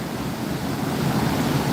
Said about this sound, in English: Look how strong that current is.